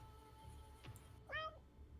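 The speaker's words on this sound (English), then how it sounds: "Kitten." A kitten gives a short, faint, high meow, heard alone against a quiet room hum during a tabletop game session.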